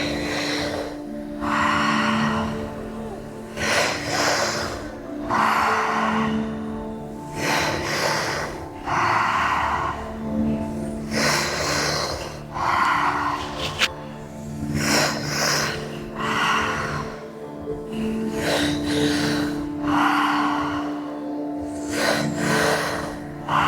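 Deep, rhythmic breaths during a guided breathwork session, loud and close, with long inhales and exhales repeating steadily about every two to three seconds and no talking.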